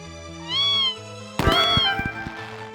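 A cartoonish cat meows in the video game Desktop Survivors: a tonal mew over a steady background music bed, then a louder, brighter meow with a few percussive hits, fairly close and clear.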